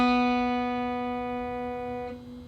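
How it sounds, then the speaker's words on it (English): An open B string plucked once on an acoustic guitar, ringing as a single clear sustained note that slowly fades, with a slight disturbance near the end. "so that'll sound like this. For the B string"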